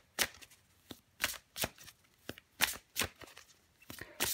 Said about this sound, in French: Je vais encore tirer une carte pour vous, les Gémeaux.